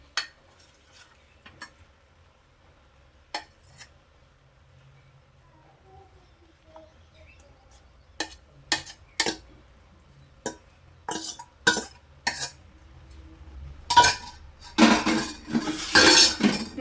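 A metal spoon scrapes and clinks against a pot while cooked beef pieces are mixed into biryani rice, with sparse taps at first building to dense, close, rattling strokes toward the end.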